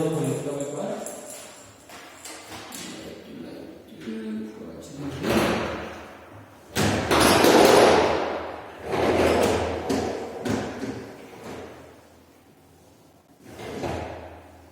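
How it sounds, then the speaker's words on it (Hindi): A door opens in a home during a power cut, giving a few muffled thuds and sliding scrapes amid rustling, with a louder whooshing swing near the middle and quieter handling noises before and after. "मैं दरवाजा खोल लेता हूँ एक बार।"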